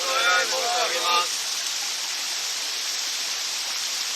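Waterfall during ascetic waterfall training at Jūji Falls, a constant roaring rush of falling water with a voice chanting briefly over it at the start.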